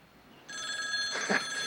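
A telephone bell starts ringing partway through, a bright, sustained trill that fills the room nearby after a quiet lead-in, with a brief muffled thump as it rings.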